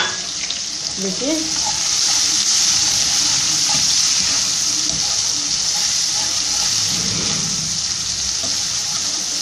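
Onion and garlic frying in a pan for bhuna gosht, a loud, steady broadband sizzle running throughout with occasional stirring clatter and a brief word spoken over it.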